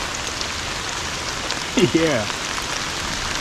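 Rain falling steadily on a river at an island campsite, a constant soft hiss of drops on water, with a short spoken word from a man partway through.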